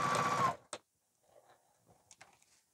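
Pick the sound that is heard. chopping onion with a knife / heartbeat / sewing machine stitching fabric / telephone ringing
sewing machine stitching fabric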